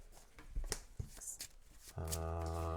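A deck of cards being shuffled by hand during a tabletop game of Tainted Grail: The Fall of Avalon, with quick close riffles and flicks, then a steady humming tone takes over.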